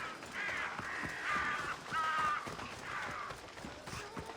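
A flock of crows caws repeatedly in a video game world, harsh overlapping calls rising and falling in bursts, with soft hoof-like thuds and movement underneath in Assassin's Creed Odyssey.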